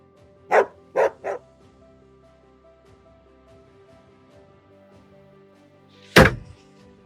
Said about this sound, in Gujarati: આ કૂતરું ક્યાંથી લાવ્યો?